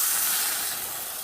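A freshly flipped hamburger patty sizzles loudly in a pan, a close, dense hiss of frying that fades slightly toward the end, with no speech over it.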